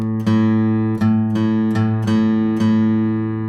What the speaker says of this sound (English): when I get to this 5th fret, I'm going to match the next open string